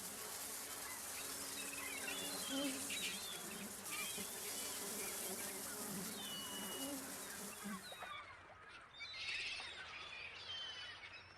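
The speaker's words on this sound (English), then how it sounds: "The wasps are guarding a poorly rinsed bowl of cereal." Wasps buzz around a poorly rinsed cereal bowl in the adventure game Jack Keane, a steady droning hum heard close up over faint ambient game sounds, with the tone shifting slightly partway through.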